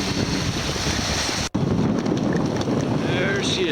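Sailboat running under a fully let-out mainsail in strong wind and swells of several feet, with steady loud rushing wind and water noise buffeting the microphone, broken by one brief dropout.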